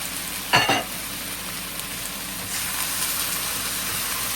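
Onion, sweet pepper and shallot hitting a hot pan for a beef and chicken stir fry, a sharp clatter followed by a steady sizzling hiss that swells slightly later.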